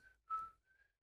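A person tries to whistle a simple back-and-forth tune, producing three short, breathy whistled notes in succession, the middle one loudest, with brief gaps between them and no talking.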